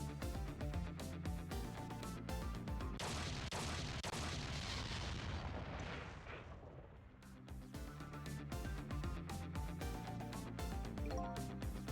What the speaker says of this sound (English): What now? I think I heard an explosion somewhere.